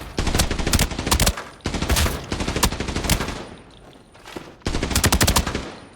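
Assault rifle fire in the video game Arena Breakout comes in three loud, rapid automatic bursts separated by short pauses, with brief quieter moments between volleys.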